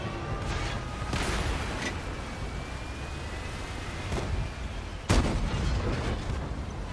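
In World of Tanks, a tank cannon fires loud, sharp blasts, one early and a heavier one later, over a constant roar of battlefield engine rumble and background combat noise.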